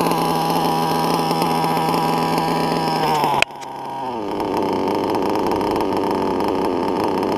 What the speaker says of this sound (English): Idle's really low, man. It almost wants to die, but she doesn't.